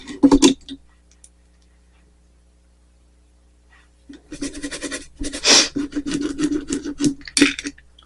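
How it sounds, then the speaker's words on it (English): Makeup brush scrubbed on a brush-cleaning pad: a brief rasping rub, a pause of near silence, then a longer run of rapid close scratchy back-and-forth strokes. "I'm cleaning my brushes off on this little signal switch thing. Just rub it on here."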